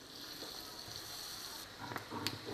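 Spiced chicken pieces go into a hot pan and sizzle and fry steadily, with a few sharper crackles and spatula scrapes near the end.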